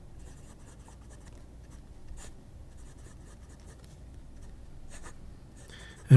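A fine nib fountain pen with a hand-polished nib that lays a thick line scratches faintly across paper in soft, continuous strokes, close and quiet, with a brief louder rustle at the end.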